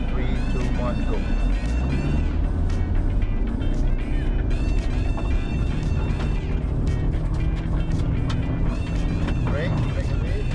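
Car accelerating hard and turning with a snapped handbrake on a driving course, loud engine roar with skidding and rushing road noise throughout, while a voice talks over it.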